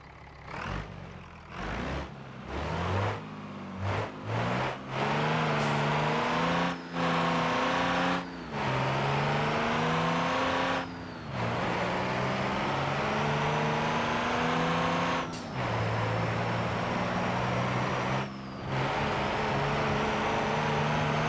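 A car engine in BeamNG revs hard through repeated bursts, cutting out briefly between pulls, then holds a long loud sustained howl with climbing pitch as the tires spin, close and without talk.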